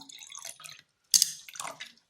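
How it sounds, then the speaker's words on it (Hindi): Water is poured into a glass onto a sensor in short splashy bursts, with a brief pause before a sharper pour and trickling drips, close by. "मैं इसमें पानी डाल रहा हूँ ग्लास में"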